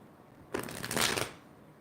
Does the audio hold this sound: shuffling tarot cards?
yes